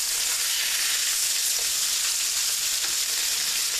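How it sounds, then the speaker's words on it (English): Taco burger patties sizzling loudly in a hot cast iron pan, a dense continuous frying hiss with faint scrapes as they are flipped, with no voices. "let's go ahead and give them their first flip"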